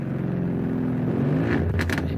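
F2 racing cars at the Jeddah circuit roll slowly backwards toward the pit lane: a low, steady engine drone idles under broadcast commentary, with a couple of brief crackling pops near the end.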